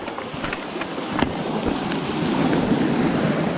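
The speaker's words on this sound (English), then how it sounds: "I'll just wait for this wave. One more wave to come" Waves wash steadily onto a night-time shore, a continuous broadband surge with wind noise, building slightly louder toward the end, no voices.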